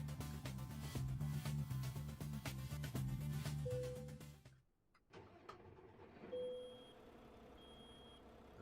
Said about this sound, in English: I've just started the engine.